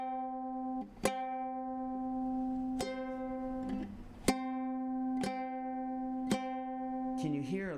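Two ukulele strings meant to share the note C but slightly out of tune, plucked together several times, each ring sustaining a steady tone with a faint beating warble between the pitches.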